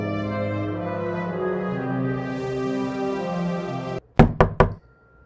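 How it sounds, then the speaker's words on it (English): Three firm knocks on a door, sharp and close and evenly spaced. They come right after a sustained musical drone cuts off, and the room goes quiet once they end. "I knock, but realize the door is already propped open"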